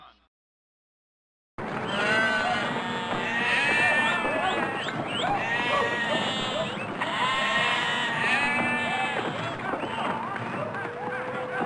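Sheep bleat again and again in wavering, nasal calls that start after a short silence and carry on, loud and close, with voices mixed in among them.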